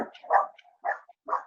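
Dogs in a house barking as someone comes in, three sharp, close barks in quick irregular succession with short yips between, no voices.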